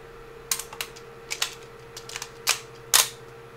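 Weapon reloading in Battlefield 3: a sequence of sharp mechanical clicks and clacks, about eight distinct snaps spread unevenly over a few seconds, close and crisp above a steady low hum.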